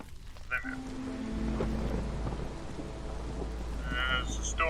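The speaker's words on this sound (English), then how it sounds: "There's a storm." Stormy weather in the video game Against the Storm: steady rain with a low rumbling thunder bed running throughout, plus a few brief tonal interface chimes near the start and end.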